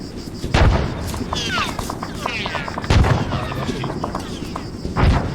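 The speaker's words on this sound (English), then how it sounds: "Tank is shooting at us." A tank fires in ArmA 3 with three heavy, booming shots at roughly two-second intervals, with chirping, crackling noise in between.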